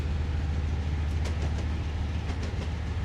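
Freight train on Cajon Pass with SD40 and ES44AC locomotives: a steady, heavy low diesel rumble with rolling rail noise, continuous and fairly loud, with a few faint metallic clicks.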